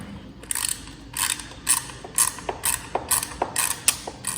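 A ratchet tightens the clamps on a Husqvarna 701 fairing tower in about a dozen sharp, evenly paced clicking strokes, close and fairly loud, with no talking.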